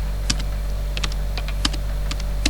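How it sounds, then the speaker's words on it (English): Someone types a website address on a computer keyboard, producing about eight light, separate key clicks at an uneven pace over a steady low hum. "You have to type"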